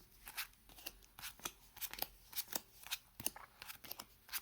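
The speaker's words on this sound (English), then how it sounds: "mix my cards up a little bit" Yu-Gi-Oh trading cards being shuffled by hand, a quick run of crisp riffling bursts in a steady rhythm, close and fairly quiet with no speech.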